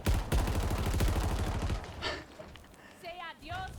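Rapid machine-gun fire rattles loudly in a video game tank battle, then breaks off into scattered impacts and whooshing, with a voice shouting over the later part.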